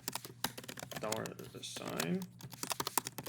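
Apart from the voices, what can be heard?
typing code on a computer keyboard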